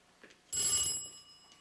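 A telephone lets out one short, bright ring indoors, rising sharply out of a quiet room and fading quickly.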